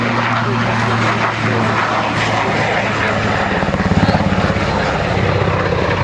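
A Swiss Eurocopter Cougar helicopter flies a display at the Waddington Airshow, its loud, continuous rotor and engine drone steady throughout, with rhythmic blade thumping coming forward near the end.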